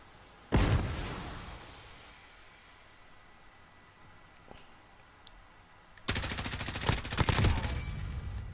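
Gunfire in the video game Call of Duty Modern Warfare comes as a sharp burst, a quieter lull with faint pops, then a loud sustained automatic volley close up.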